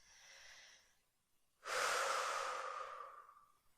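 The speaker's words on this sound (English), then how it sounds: "let's take a breath" A single deep breath in a guided breathing exercise, a quiet breath for about a second followed by a loud, long, rushing inhale or exhale close by that slowly fades out.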